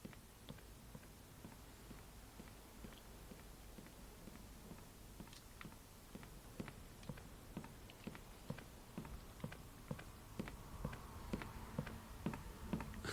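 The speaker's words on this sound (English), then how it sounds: "The footsteps are louder if the camera's in closer." Footsteps in a video game, a steady run of light tapping steps with a clip-clop quality, fairly close and growing slightly louder toward the end, with no talking.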